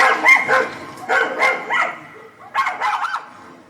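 Several dogs bark and yip in quick, close bursts, a staged effect during a school stage play, loud clusters of barks separated by brief pauses.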